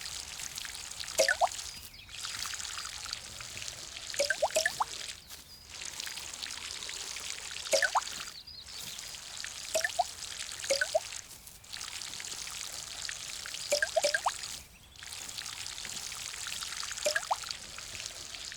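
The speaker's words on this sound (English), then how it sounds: "as soon as I plant something, I water it before I do anything else" Water poured over freshly planted plants in the video game Garden Simulator, a steady broadband splashing wash that comes in repeated bursts of a few seconds with short gaps between, and no talking.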